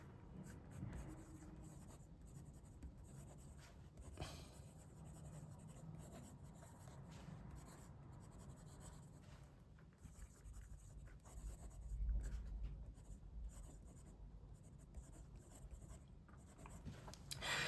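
A Gravitas Monster fountain pen with a steel broad nib, inked with Cross Violet, scratches across paper in a soft, continuous rasp with brief strokes and pauses, close and quiet with no talking.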